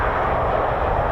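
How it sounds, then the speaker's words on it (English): A reverse-flow PT6 turbine aircraft engine runs at RAF Waddington, giving a steady, even roar that fills the short moment without a break. "It's a reverse flow engine, which means the front is actually the back."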